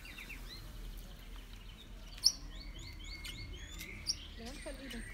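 Cockatiel calls at a bird and animal park, short bright chirps and whistled notes repeating in quick clusters, fairly faint against a steady outdoor background hum, with a couple of sharper louder calls standing out.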